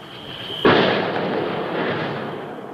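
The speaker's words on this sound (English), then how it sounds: "In the week where in Donetsk, the city experiences its worst shelling in a year" Artillery shelling in Donetsk lands with one loud, sudden blast that rolls into a long, broad rumbling decay, heard at a distance with no voices.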